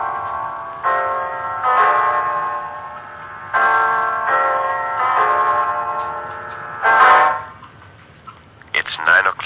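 In an old radio mystery drama, a clock strikes nine with a run of ringing, bell-like chimes, each tone sustaining and fading before the next, in slightly lo-fi broadcast quality.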